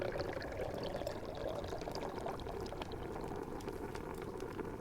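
A bubbling potion mixed with poured rose water, a soft, steady stream of gurgling and liquid bubbling throughout, gentle and even with no voices over it.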